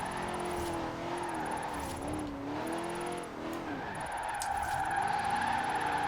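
A stock van turned drift car in Forza Horizon 4 slides and spins out, its engine note wavering and swooping while tires squeal and skid in repeated bursts, moderately loud with no talk.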